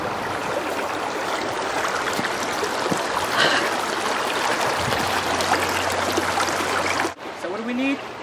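River water flows in a steady, full rush close by, a continuous broadband wash that briefly drops near the end, with a voice speaking over it.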